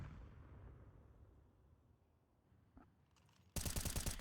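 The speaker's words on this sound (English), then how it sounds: "just firing AK bullets through into the abyss" Rapid AK rifle fire in Counter-Strike on the Vertigo map bursts in loud and sustained near the end, following a quiet stretch of low game ambience.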